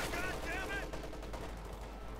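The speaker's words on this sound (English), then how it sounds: "we still got that MG-34 causing problems" MG-34 machine gun fire in an Eastern Front video game battle, a dense rattling burst under steady background din.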